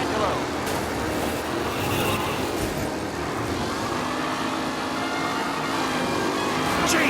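Race cars from Mafia: Definitive Edition being driven aggressively, a loud continuous engine roar with traffic-like rumble and a rising whine near the end, with talking mixed in.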